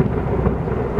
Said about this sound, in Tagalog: Biglang kumukulog.